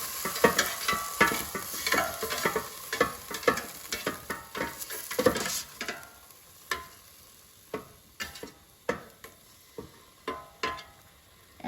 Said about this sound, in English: let's take out the air fryer basket and let's flip the pork so it cooks evenly